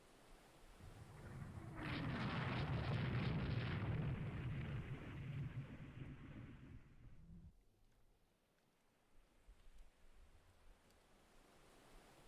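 Naval guns firing in the Rule the Waves 3 game, a broad booming roar swelling for several seconds before cutting off into quiet, with no talk.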